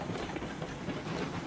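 Locomotive rolling along rails in the railroad simulation game RailRoads Online, heard as a steady broadband rumble with a faint hiss and soft rhythmic clatter, constant and fairly close, with no voices.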